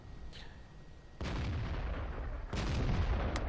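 Artillery fire in the World of Tanks video game: two heavy booming blasts land about a second apart, each leaving a broad rumbling wash, over a steady low background of battle noise.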